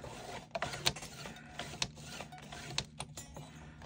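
Electric paper-cutting machine slicing a collage template, a steady mechanical whir with repeated sharp clicks and bursts of motor noise, close and fairly quiet, no talking.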